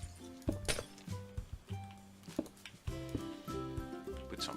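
Glass blocks being placed in Minecraft while building an armor stand display, a series of crisp clinking, thunking placement sounds in an irregular rhythm over background music.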